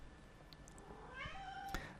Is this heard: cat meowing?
yes